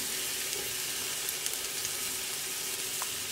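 Mushrooms frying in oil in a pan, a steady soft sizzle and crackle with small pops, fairly quiet and close, no talking.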